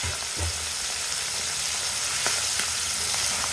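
Minced mutton keema frying in a pan for Andhra-style pickle makes a steady, moderately loud sizzle with occasional soft stirring scrapes and pops, no talking.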